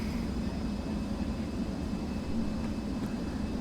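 BAC 1-11 jet engines at full throttle in a flight simulator, a steady low rumbling drone with a faint whine on top, unbroken and even in level throughout.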